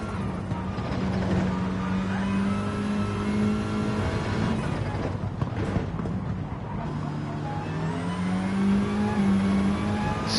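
Formula Ford single-seaters race on a circuit, their engines droning loudly and continuously with rising and falling pitch, and one car sweeps past midway.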